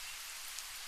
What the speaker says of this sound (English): there is only the faint hum of the ventilation and the soft patter of rain outside